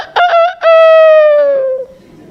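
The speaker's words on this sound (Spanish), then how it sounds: "No sé si se han dado cuenta que todavía los gallos cantan." A rooster crows once, loud and close, with a few short rising notes and then a long drawn-out call that fades away.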